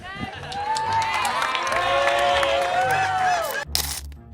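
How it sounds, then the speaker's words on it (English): A crowd cheering and whooping loudly as a woman walks off, a dense, close roar of many voices holding steady for several seconds before cutting off abruptly near the end. "She walks off to cheers"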